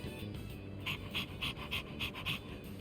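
Koromaru the dog pants in Persona 3 Reload, a run of about six quick, even breaths in the second half, close and clear over a low murmuring game background.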